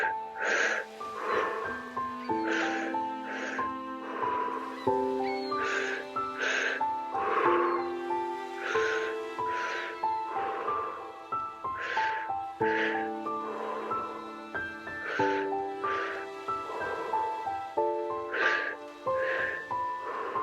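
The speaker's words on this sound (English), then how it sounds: "Continue breathing. In through the belly, in through the chest, exhaling through the mouth." Slow, deep breaths exhaled through the mouth during a guided breathing exercise, a steady rhythm of close, airy wheezing breaths over a soft sustained music bed.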